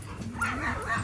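A farm dog named Barney gives short whimpering yips and whines during play with a chop-shaped toy, a steady run of high, excited vocal noises close by.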